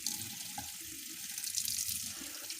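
Cold water runs from a kitchen tap into the sink in a steady, fairly quiet splashing stream, with no voices over it.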